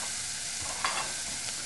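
Onion and porcini mushrooms sauteing in a pan for an Italian cream sauce, a steady bright sizzle with a few soft stirring scrapes, close and continuous, no talking.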